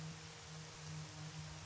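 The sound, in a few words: rain in a racing video game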